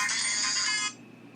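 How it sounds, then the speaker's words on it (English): A phone rings during an indoor drawing session, giving one bright electronic ringtone burst that lasts about a second and then cuts off into quiet room tone. No one speaks over it. "And that was a phone call."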